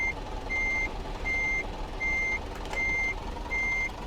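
A truck reverse alarm in Euro Truck Simulator 2 beeps steadily, six evenly spaced tones over a low engine rumble while the truck backs up, loud and clear with no talking.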